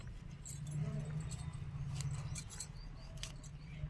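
Scissors snip green chilli plant leaves in a terrace vegetable garden, a few faint metallic clicks over a steady low hum.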